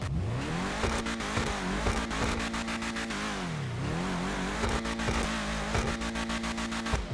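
A car engine in GTA 5 Online revs hard and repeatedly, climbing and dropping in pitch through several throttle blips and gear changes, loud and close with no talking.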